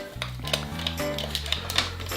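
Crisp plastic clicks from pressing buttons on an EvoRetro GameCube-style controller, a quick irregular series of sharp taps close up, with a low background hum.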